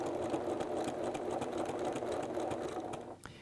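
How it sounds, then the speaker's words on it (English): A sewing machine runs steadily, making tight zigzag stitches to secure elastic for shirring: a fast, even mechanical whir with rapid ticking, moderately close, easing off at the very end. "Now, to secure this, I'm just doing really tight little zigzag stitches."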